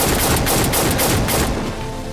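Rapid pistol gunfire from the TV series Lost, a burst of sharp repeated cracks in quick succession over dense, loud noise that thins out toward the end.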